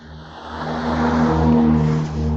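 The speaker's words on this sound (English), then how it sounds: "Oh, there's a loud car coming" A loud car engine drones and swells nearby outdoors, a deep rumbling hum that rises toward the middle and eases off as the vehicle passes, with no talking over it.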